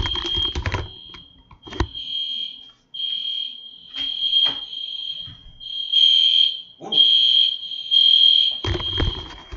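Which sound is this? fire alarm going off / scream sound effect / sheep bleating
fire alarm going off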